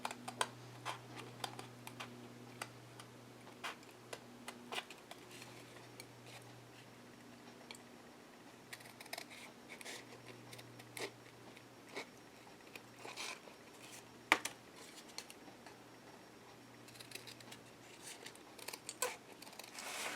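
Scissors snip through black cardboard while cutting out horse shapes, a steady run of small crisp clicks and crunches close by over a low background hum.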